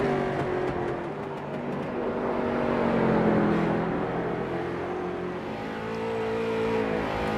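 A concrete street stock race car in iRacing at South Boston Speedway drones steadily through a turn, its engine note rising and falling slightly, loud and continuous with no talk.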